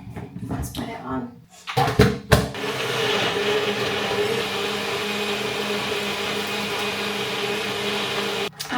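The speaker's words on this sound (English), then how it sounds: "hopefully my blender will not break in the process. Right, let's put it on." A kitchen blender whirs through frozen mango and honey, starting after a few clunks and brief talk, then a loud, steady grinding motor drone that holds for several seconds before cutting off.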